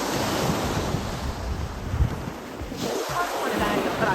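Ocean surf washing onto a sandy beach at a Cancun resort, a steady loud roar of breaking waves mixed with gusty wind buffeting the microphone, continuous across the whole stretch.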